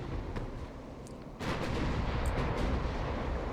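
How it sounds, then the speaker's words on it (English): Battleship gun salvos in the naval video game Ultimate Admirals Dreadnoughts: a low, rumbling barrage that swells into a dense roll of distant booms midway and holds loud to the end. "they're still firing the guns and they do damage"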